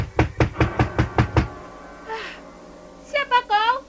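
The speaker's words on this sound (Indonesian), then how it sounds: "Jangan keras-keras mengetok pintunya." Hard knocking on a wooden door, seven quick heavy raps in a steady run, followed by a short pause and then a voice speaking.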